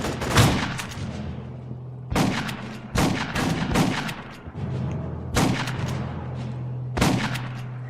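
Heavy gunfire from the video game Aliens: Colonial Marines comes in repeated loud bursts every second or two over a steady low hum, with no talking.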